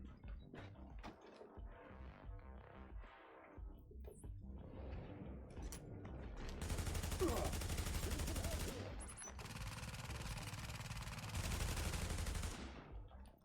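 Sustained automatic gunfire aimed at an enemy's tank in The Division 2, dense bursts rattling over several seconds after softer game sounds and mechanical clicks, fairly loud and continuous.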